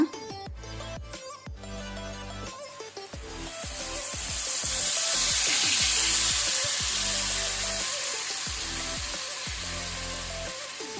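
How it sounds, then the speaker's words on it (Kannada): Ground jackfruit paste hits hot ghee in a pan over a low flame, breaking into a loud, broad hiss that swells and holds steady, with soft clinks and background music underneath. "ಈಗ ನಾವು ರುಬ್ಬಿದ ಹಲಸಿನ ಹಣ್ಣಿನ ಪೇಸ್ಟನ್ನು ಹಾಕೋಣ."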